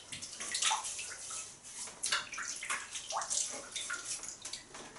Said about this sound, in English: You wet the face, you get some of the face wash, and you rinse after you've done it.